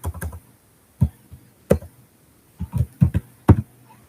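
Keys clatter on a computer keyboard in short bursts of a few quick taps, with pauses between clusters, close and fairly crisp.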